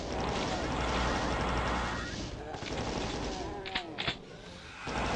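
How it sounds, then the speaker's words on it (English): Gunfire from enemies in the video game Doom, a dense rattle of shots over a rumbling background with a few sharper bursts near the end. "something's shooting at us"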